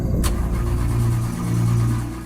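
A car engine runs steadily at a low, rumbling pitch after stalling on a jungle road near elephant paths, with a brief sharp click at the start and no talk.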